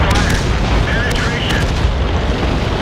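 Cannon blasts from Chaffee light tanks trading fire in the Chaffee Sport game mode, dense booming gunfire layered with rumbling engine noise, loud and continuous across the whole stretch.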